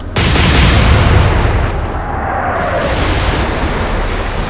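Naval guns fire in the Atlantic Fleet video game, a single loud, close blast followed by a sustained rumbling roar that slowly settles into a steady noisy tail.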